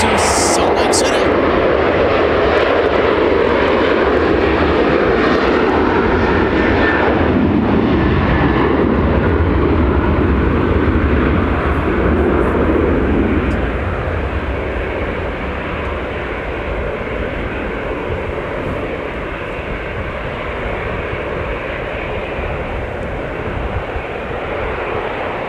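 Delta airliner taking off for Salt Lake City at Minneapolis–St. Paul Airport during a winter storm: a loud, sustained jet engine roar that fills the whole stretch, easing slightly toward the end.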